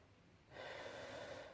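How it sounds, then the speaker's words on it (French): A single deep, breathy inhale through the nose and mouth, taken slowly and calmly while drawing a straight line, close and quiet, with no talking. "Donc j'inspire"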